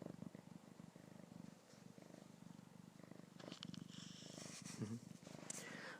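A cat purrs steadily close by in a continuous low rumbling drone, with a person talking softly over parts of it.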